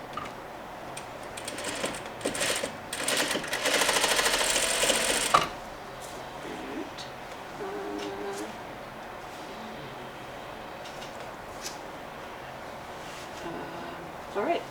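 A sewing machine runs in a dense, steady burst for several seconds while stitching slipcover pieces for a Parsons chair, then stops, leaving faint handling and quiet room noise with occasional soft talk.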